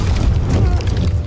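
A grenade blast in a battlefield scene: a heavy, rumbling boom with sustained low-end roar and crackling debris filling the whole moment, loud and close, with no voices.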